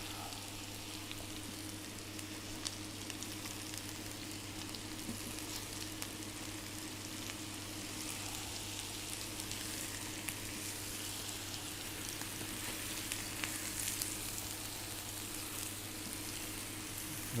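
Butter sizzles steadily in a pan on a hob at full heat, browning to noisette at the centre while still white at the edges, a continuous close crackle with no talk.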